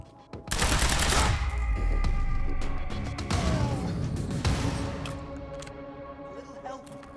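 Gunfire from enemy soldiers in the video game Quantum Break, a loud, dense burst of automatic shots and impacts that swells early and tapers into scattered shots, with a brief voice heard faintly.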